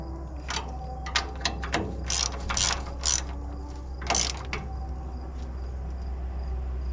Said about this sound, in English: Where's my ratchet? Right there. So we can go ahead and tighten this guy back up.